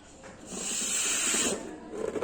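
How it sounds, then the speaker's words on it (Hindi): Air hisses into a balloon as it is blown up, one sustained bright hiss lasting about a second, close and fairly loud, then fading into quieter rustling. "गुब्बारे को हम फुला रहे हैं।"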